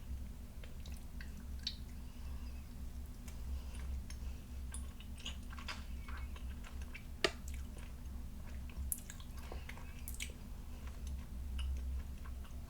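Soft, close, squishy chewing of a two-flavored gummy worm candy with yellow and green halves, with quiet wet bites and clicks spread over a faint, steady background hum.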